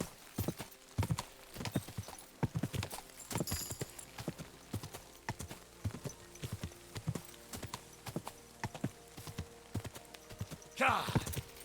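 Horse hooves clip-clopping steadily while riding in the medieval video game Kingdom Come: Deliverance II, a regular close rhythm of hoofbeats throughout with a brief whinny near the end.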